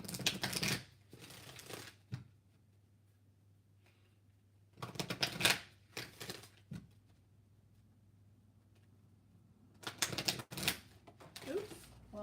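Oracle cards riffled and shuffled by hand in bursts of crisp rapid flutters separated by quiet pauses, close and fairly loud, with a few brief soft slaps as cards are pulled from the deck.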